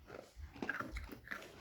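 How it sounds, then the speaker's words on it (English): An animal crunches on a hard catkin treat, several crisp bites and chewing sounds close by, fairly quiet, with low breathing between them and no talk. "Oh, listen to that sound. Crunch. Very crunchy."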